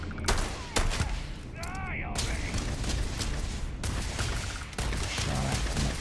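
Repeated gunshots and automatic weapon fire in the sci-fi shooter Starfield, sharp loud cracks in quick bursts with brief pauses, under someone talking.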